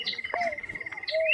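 Birds call in a biodiversity park with sharp chirps and a sustained thin whistling tone over a rapid pulsing trill, close and clear, with brief rising whistles near the end and no voices.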